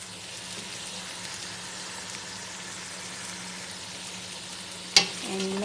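Vegetables sizzle and fry in tomato paste in a pan, a steady close hiss with a sudden louder burst near the end as they are added and stirred.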